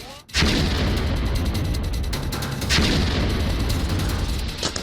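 Heavy gunfire and booming blasts in Afghanistan, a sharp onset followed by continuous loud rumbling bursts with repeated cracks.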